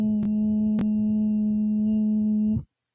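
A singer's pufferfish cooldown exercise, a steady voiced hum pushed through puffed cheeks and nearly closed lips, held on one low pitch with a couple of brief lip pops before it cuts off.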